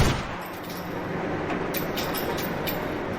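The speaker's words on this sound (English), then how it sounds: "in Max Payne 3, when shooting a gun near an escalator, you can accurately hear the bullet casings drop down each step" Gunfire in the video game Max Payne 3 near an escalator, with bullet casings tumbling down the steps: dense, moderately loud crackling noise with a few sharper bursts toward the end, no voices.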